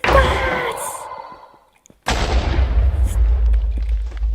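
Explosions in the Minecraft video game, a deep booming blast that fades out, then after a brief silence another loud rumbling explosion that lingers with low rumble.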